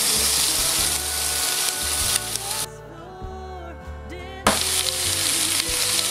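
Veal pieces sizzle loudly as they go into a hot pan for a veal sauté, with a steady frying hiss that drops briefly mid-clip, then returns at full strength.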